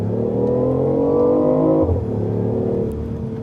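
A BMW i8 hybrid sports car accelerates from inside the cabin, its engine tone climbing steadily, then dropping abruptly in a quick gear shift near the two-second mark before rising again, loud and continuous.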